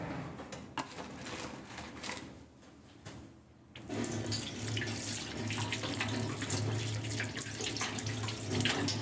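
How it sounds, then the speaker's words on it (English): Tap water runs steadily into a kitchen sink while a pepper is rinsed under it, the flow quieter and uneven at first, then a strong, continuous splashing stream for the rest. "just gonna wash this pepper real quick"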